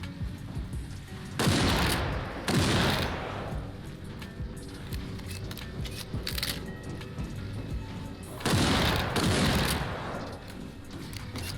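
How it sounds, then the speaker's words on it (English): Gunfire aimed at mutants in the game Stay Out, a couple of loud bursts of shots near the start and another near the end, set against a steady gameplay background. "I'm just gonna shoot them this time instead of using that flamethrower"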